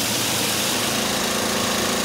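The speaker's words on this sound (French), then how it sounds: "Un tracteur-citerne, financé par l'Europe et l'ONG CARE, fait le tour des camps pour distribuer l'eau." A tractor-tanker engine drones steadily and close by while it hauls water around refugee camps, a loud, even rumble with no break and no voices.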